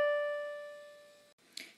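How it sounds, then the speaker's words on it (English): One held musical note D, the fourth line of the treble clef, sounded cleanly and decaying softly over about a second before cutting off, followed by a faint brief noise. "D sits on the fourth line in the treble clef staff and sounds like this."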